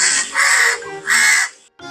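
A crow cawing in an animated story, two drawn-out harsh caws close and loud, followed by a short cut-off sound at the end.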